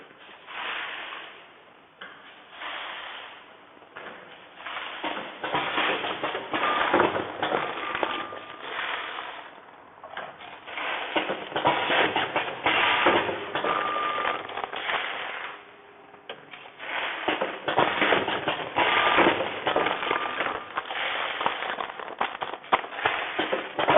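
An AUTOMPACK ATM-320C bag packing machine runs close by, packing coffee beans or similar products, with a steady busy mechanical clatter and rattling that pauses briefly twice between longer stretches of operation.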